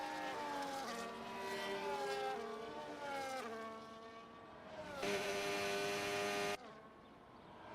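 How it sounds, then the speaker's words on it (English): Several race cars leaving the pit box together at the Abu Dhabi Grand Prix circuit, engines whining and shifting pitch as they accelerate away, with a loud steady roar near the end before it cuts off. "multiple cars leaving the pit box at the same time"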